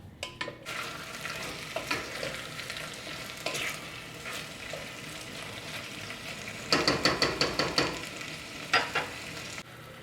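Meat and onion frying in a pot for goulash soup, a steady crackling sizzle with scraping stirs and a burst of sharper spatter near the end, close and alone without talk.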